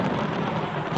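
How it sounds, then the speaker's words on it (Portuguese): A thunderstorm over Jerusalem as a film sound effect, a dense, steady roar of heavy rain and rumbling thunder filling the whole moment with no voices. "Naquela noite, uma tempestade se abateu sobre Jerusalém."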